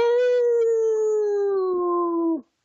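A man imitates a long dog howl, a single sustained steady tone held for over two seconds, loud and close, sliding slightly lower before cutting off abruptly.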